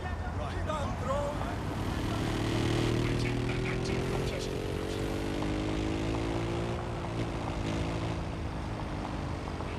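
A drone flies in Watch Dogs: Legion, giving a loud, steady propeller buzz whose pitch glides upward and then levels off, set against dense game noise.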